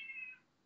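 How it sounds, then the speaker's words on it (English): A pet cat gives a single short, clear meow close by that fades quickly into quiet. "Yes, that is Zap Rousdower, Nathan's cat."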